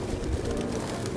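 Pigeons coo in a Detroit: Become Human game scene, soft repeated low calls in a close indoor space over a steady backdrop of ambient noise.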